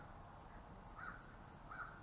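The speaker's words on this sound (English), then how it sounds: "I don't know what they're hollering for. Crows have got this language." Two short, faint caws from crows at a distance, about a second apart, over a quiet outdoor background.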